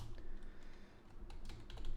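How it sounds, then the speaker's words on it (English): Keys clatter on a computer keyboard as code comments are entered, soft irregular bursts of clicks that cluster toward the end over a low steady room hum, with no voices. "I'll start typing out some comments too."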